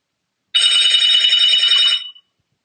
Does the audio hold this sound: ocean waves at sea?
no